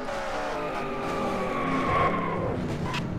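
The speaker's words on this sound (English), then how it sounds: "Oh, we got a wreck." A race car wreck during an online racing-league event at Lowe's: a loud, close engine roar with tire squeal and skidding swelling briefly in the middle of the crash, carrying on steadily without talk.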